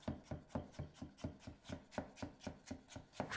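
A knife cuts potatoes by hand on a board, about a dozen crisp chops in a steady, even rhythm, close and fairly quiet, with no talking.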